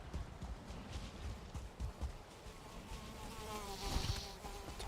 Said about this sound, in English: Too many mosquitoes again.